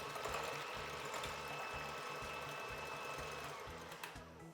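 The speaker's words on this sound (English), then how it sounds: "You're going to want to use an electric mixer" An electric mixer beats egg whites for a tres leches cake, a steady whirring motor drone with a fast regular rhythmic churn, continuous and fairly close throughout with no talking.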